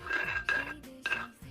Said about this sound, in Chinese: 用勺子给它搅拌一下